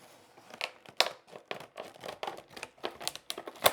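A plastic blister pack crinkles and crackles in short, irregular bursts as it is squeezed and torn open by hand, close and fairly quiet.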